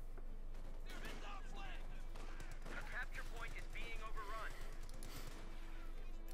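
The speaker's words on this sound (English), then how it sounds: "Germans being strafed there with a rifle fire" Machine gun and rifle fire in the video game Company of Heroes 2, a busy crackle of shots and bursts beneath steady commentary, moderately distant and mixed with battlefield clutter.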